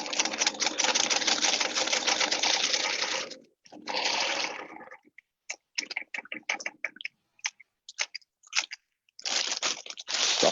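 A sewing machine stitches a seam set 4 millimetres from each edge, running steadily for several seconds, then giving a shorter burst and a string of brief stop-start stitches before a final run, all close up.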